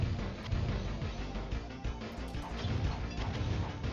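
A car is smashed in a Neo Geo arcade game, with the windshield kicked in by foot; a steady stream of crunching, clattering impacts and thwacks with game music underneath, loud and continuous.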